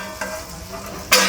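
Fish frying in oil in a tava, a steady close sizzle with a brief clatter and a sharp burst of crackle at the end.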